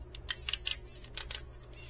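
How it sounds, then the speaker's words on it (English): The ratchet joints of a Fans Toys Viper (G1 Fireflight) transforming robot figure click as the limbs move, giving two quick bursts of crisp, close clicks with no talking. "Really good ratchets at that."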